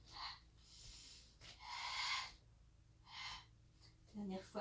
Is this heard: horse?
no